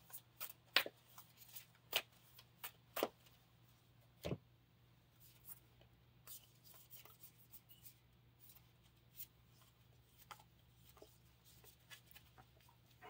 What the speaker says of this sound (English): we get to search the top 10 cards of our deck for a mount